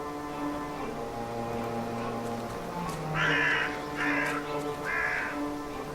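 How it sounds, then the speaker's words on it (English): A single, dying crow in The Last Door gives three hoarse caws in quick succession, close and fairly loud, over a low sustained musical drone. "Ah, it's only a single crow now."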